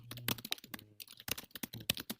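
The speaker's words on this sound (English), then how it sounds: "Furious typing" Fast, busy typing on a computer keyboard: a dense, irregular run of close, crisp key clicks and clacks with no talk.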